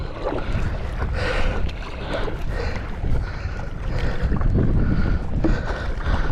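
Wind buffets a microphone aboard a kayak on open water near Anacortes, a loud, continuous low roar with gusting surges and faint water sloshing close by, no talking.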